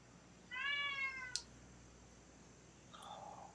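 A pet cat gives one clear, drawn-out meow nearby in a quiet room, followed a little later by a softer, shorter chirping call.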